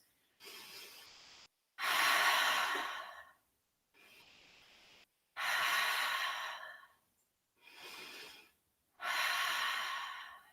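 Slow, deep breaths during a yoga pose in a studio session, a rhythmic series of long airy inhales and exhales with short pauses between, close and clear with no talking.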